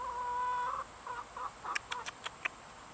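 A rooster called Mr. Roo lets out a long crow, then a quick series of short clucks, close and fairly quiet.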